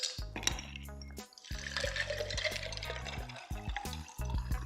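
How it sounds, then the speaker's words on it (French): Ice cubes clinking and knocking into a glass for peach iced tea, a run of close, bright taps and rattles with a brief pause partway through, with no voices. "Vous n'avez plus qu'à mettre quelques glaçons dans un verre."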